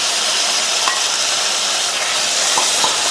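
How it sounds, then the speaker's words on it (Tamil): Chopped medium tomatoes sautéing in a pan, a steady close sizzle with a few faint stirring clicks and no talk. "இந்த தக்காளியையும் 1 நிமிஷத்துக்கு நல்லா வதக்கி விட்டுக்கலாம்"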